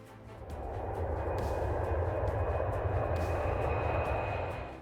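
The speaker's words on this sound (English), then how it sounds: "A jet-powered railcar from 1966 was faster." Jet-powered railcar from 1966, its jet engine giving a steady, loud roar with a broad rumbling body and a faint high whine, rising in over the first half second and holding constant throughout before easing at the end.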